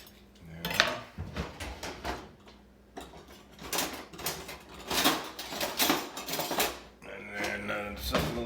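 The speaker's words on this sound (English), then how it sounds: "if you're going to be cubing up a pork shoulder or a loin or whatever, this is where a sharp knife comes in handy" A sharp kitchen knife cubes a pork shoulder on a board for carnitas, giving repeated close clicks and taps of the blade striking wood mixed with clinking dishes and utensils. No one talks.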